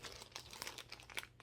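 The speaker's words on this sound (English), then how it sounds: "Oh yeah, it's in a plastic bag." A plastic bag wrapping a cross-stitch piece crinkles in short, close bursts of crackling rustle with no talk.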